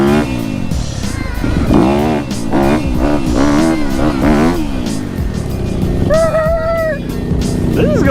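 A Yamaha YZ dirt bike ridden through mud at an outback riding park, its engine loud and close, revving up and down in repeated surges with shifting pitch, and a brief higher-pitched whine near the end.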